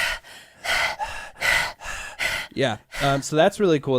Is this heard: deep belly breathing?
yes